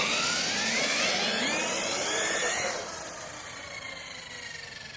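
A HoBao Hyper TT RC car's motor is held at full throttle, a loud high whine with rising pitch sweeps that drops off in level partway through and carries on as a quieter hum.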